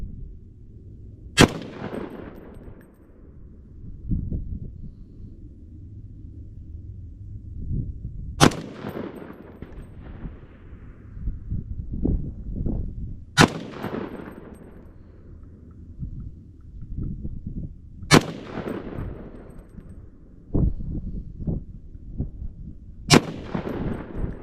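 Five loud, sharp rifle shots from an Aero Precision .308 M5E1 firing Nosler ammunition, spaced several seconds apart, each with a ringing decay, over low outdoor rumble and faint handling noises between shots.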